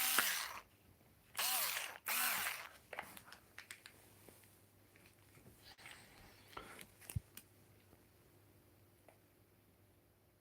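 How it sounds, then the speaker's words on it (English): A Bosch electric screwdriver whirs in two short, loud bursts near the start, then gives way to scattered small clicks and mechanical handling noises at lower level. "This is me Bosch screwdriver, guys."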